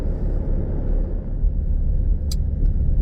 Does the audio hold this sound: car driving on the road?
yes